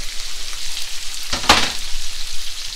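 Rough chopped celery sizzles and fries in a hot pan while browning for a beef stew, a steady crackling hiss with a brief louder burst of spatter partway through.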